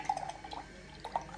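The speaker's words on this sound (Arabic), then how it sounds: "بعد كده بزود عليها الكوكونات، معجبة بالاختراع، الكوكونات ميلك." Coconut milk poured onto matcha tea: light, close dripping and trickling with a few small splashy drops and glassy clinks, quiet and alone.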